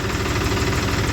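A Mahindra tractor engine running, a close, steady low diesel throb with a rapid rhythmic knock and no pause.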